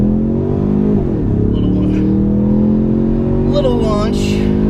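A 2015 Ford Mustang EcoBoost with an automatic transmission launches hard in Sport Plus with traction control off. A loud, steady engine drone climbs in pitch, with brief tyre or whine sweeps partway through.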